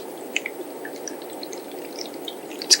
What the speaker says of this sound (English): Pouring the water in.